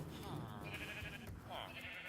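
Sheep bleating on a Minecraft sheep farm in a video game, wavering cries over a layer of background voice, moderately close.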